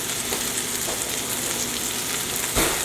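Chicken pieces fry in virgin olive oil in a pan, a steady close sizzle crackling continuously, with a brief louder spit of oil near the end and no talking.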